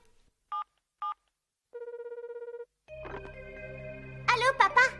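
Telephone being dialed in a Hunter X Hunter anime scene: two short key tones, a rapid run of dialing beeps, then a ringing tone with a voice speaking over it near the end.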